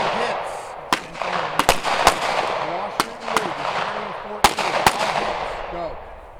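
Pistol gunshots ring out during a draw, shoot and move drill on a training range, about a dozen sharp, loud cracks in irregular clusters over a murmur of background voices.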